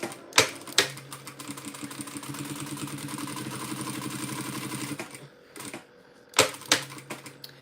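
A sewing machine runs steadily for about five seconds, its rapid, even needle rhythm buzzing close by, framed by sharp clacks and handling knocks before and after.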